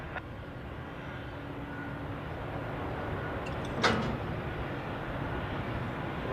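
Airliner taking off from a Zurich Airport runway in gusty Sunday crosswinds, a steady broad engine roar holding at one level throughout, with a short brighter burst partway through.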